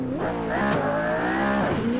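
A McLaren P1 supercar in the Assetto Corsa racing game roars loudly and close up, its engine revving up and down through quick gear changes with a brief tyre squeal.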